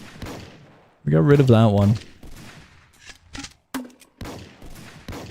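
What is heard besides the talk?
gunfire in a Roblox video game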